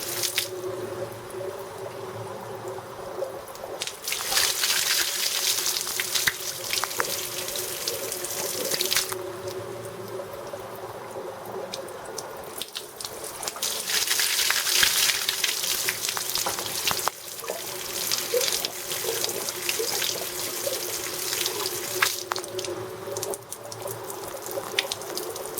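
Water pours steadily into the radiator of a Mercedes 280E during a flush, a continuous gurgling, splashing flow that swells and eases in several waves over the long stretch.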